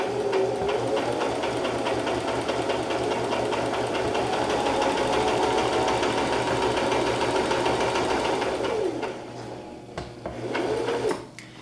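Sewing machine stitching forward along the edge of fabric for a scrunchie, a steady, close, continuous whirring drone of rapid needle strokes that slows and stops briefly near the end before a short final burst.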